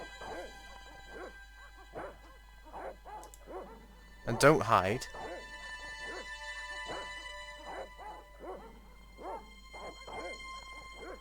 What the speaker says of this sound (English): try and go this way, and the dogs will start barking